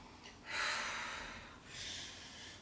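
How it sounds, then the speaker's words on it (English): Two slow, soft breaths, a long airy exhale followed by a shorter second one, taken close up during a hip-opening lunge in a movement warm-up, with no talking. "Taking your time with the breath"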